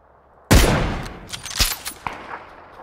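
A sharp, loud burst of gunfire in PUBG opens the clip, followed by several quieter trailing shots and echoes with no talking.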